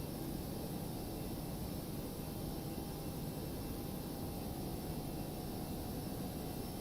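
Airliner engines at climb power in the X-Plane 11 flight simulator, a steady broadband roar and hiss holding evenly throughout with no breaks, heard from inside the aircraft.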